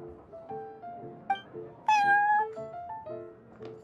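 In Genshin Impact, a cat meows repeatedly in a series of close, clear calls, with one louder, drawn-out meow in the middle and softer meows around it, with no talking.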